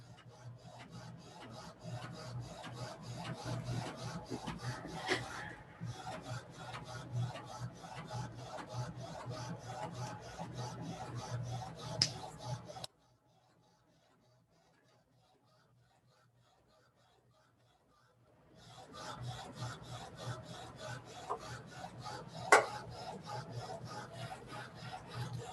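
A printer prints a T-shirt design in a steady, raspy mechanical whir with rapid rhythmic pulsing, stopping for a few quiet seconds before starting up again, with no talk over it.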